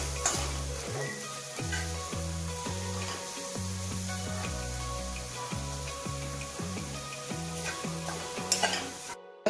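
Chopped onion and capsicum stir-frying in a hot pan for Hakka noodles, a steady close sizzle broken by regular scraping, clattering strokes of a spatula stirring the vegetables.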